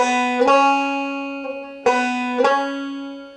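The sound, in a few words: guitar note sliding up frets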